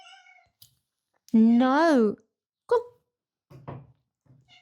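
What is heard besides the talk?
pet cat meowing, wanting to be scratched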